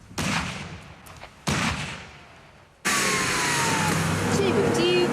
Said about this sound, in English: Priming! Stand by! Firing!